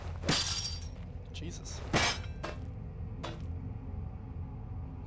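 In the video game Penumbra Overture, a hammer strikes a lock with two loud metallic clangs followed by lighter clinks and a final knock, over a low ambient rumble, and a voice speaks briefly.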